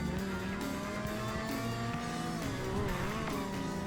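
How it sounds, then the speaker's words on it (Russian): A car in a video game races fast through a city, its engine droning steadily with rising and falling revs and faint tire noise, continuous and moderately quiet. "Найдем машину и прокатимся по городу на большой скорости"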